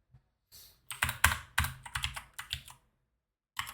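Computer keyboard typing while code is written for a Telegram bot controller: irregular bursts of crisp, close keystrokes with short pauses between clusters and a final lone tap.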